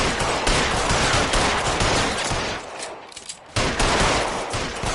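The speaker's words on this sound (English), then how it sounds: "Shoot all the letters out, why not?" Rapid gunfire from the video game L.A. Noire rattles loud and dense almost the whole time, shots fired at letters, with a short lull before a final burst.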